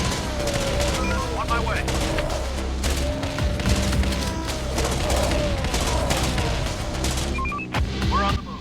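Dense gunfire in the zombie survival strategy game Infection Free Zone, set in Mogadishu, Somalia: rapid overlapping shots and booms in a continuous loud barrage, with a brief voice speaking over it.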